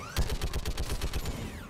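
Rapid bursts of gunfire and blasts from a Mass Effect 3 firefight as an enemy explodes, loud, dense and rhythmic, with repeated sharp reports over about two seconds and no talking.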